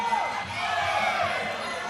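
Crowd noise at a Muay Thai bout, a steady roar of cheering and shouting from a packed arena, continuous and fairly loud throughout with no break.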